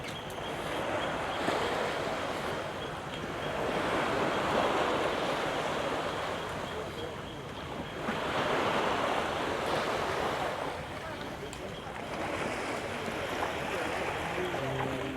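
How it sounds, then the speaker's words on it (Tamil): Small, gentle sea waves along the Labrador Nature coastal walk, washing in soft rolling swells every few seconds, a continuous nearby surf with light wind noise. "இங்கெல்லாம் அலைகளெல்லாம் சின்ன அலைகளாக தான் இருக்குது"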